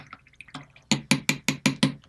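Water dripping and splashing onto watercolor paper as it is wetted before painting, a quick run of six sharp, evenly spaced wet taps following a few softer drips, close and fairly loud.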